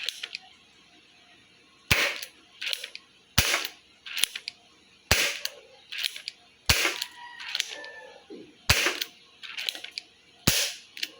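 An XYL ZP5 gel blaster toy gun test-fires roughly eight sharp, loud cracks at a steady pace about one second apart, each shot followed by fainter mechanical clicks and rattles as the blaster cycles.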